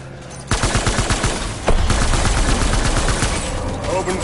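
Sustained gunfire from Death Stranding Director's Cut, a dense fusillade of rapid machine-gun bursts that kicks in hard after a quiet half second and surges again midway, loud and continuous.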